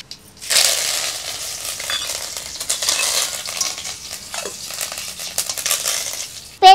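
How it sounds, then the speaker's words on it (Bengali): Mustard seeds, curry leaves and dried chillies hit hot oil in a pan, bursting into a loud, steady sizzle with crackling pops and spits that keep going for several seconds. "তেল গরম হয়ে গেছে, দিয়ে দেবো সরষা, দিয়ে দেবো কারিপাতি আর শুকনো লঙ্কা।"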